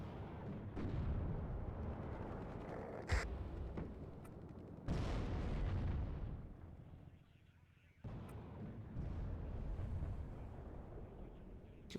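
Heavy booming rocket artillery explosions in the war game WARNO, several deep rumbling blasts rolling one after another, loud and sustained with short lulls between impacts.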